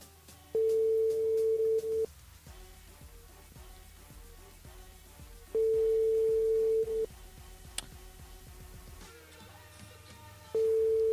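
A telephone ringback tone sounds in long repeating beeps with pauses between, the call going unanswered.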